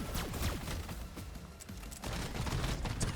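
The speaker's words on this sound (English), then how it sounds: "So this is just a laser gun." Laser gun firing in a video game, with rapid repeated zapping shots and descending sweeps stacked densely over a busy, noisy background, fairly loud and continuous.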